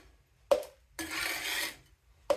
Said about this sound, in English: Something so satisfying is scraping grease off